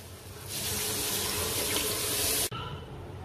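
Leftover boiling water pours steadily into a pot of Pakistani white chickpea curry, a continuous close gushing splash that runs for about two seconds and then stops abruptly.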